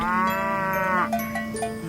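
A big cow moos in one long, loud, sustained low call that rises and bends near the end, standing alone and close with no talk over it.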